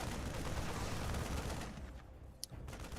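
Marines open up on Adepts in a StarCraft II match: a dense, rapid gunfire clatter rattles for about a second and a half, then thins to quieter scattered noise with one sharp click near the end.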